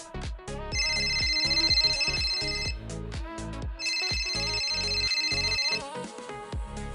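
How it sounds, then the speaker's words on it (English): An incoming call rings on a phone: a bright electronic ringtone melody plays loudly in two repeated bursts with a short gap between them. "I'm getting a ton of phone calls"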